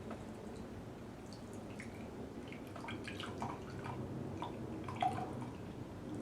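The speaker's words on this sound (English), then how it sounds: "we're going to go ahead and carefully pour this in our cup here" Leafy green juice from a Champion juicer poured and strained through pulp into a cup, heard as faint, steady dripping and trickling liquid against a low background hum.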